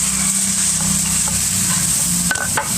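Food frying in a pan at a roadside cooking spot, a steady loud sizzle with stirring scrapes running throughout and a couple of sharp clinks near the end.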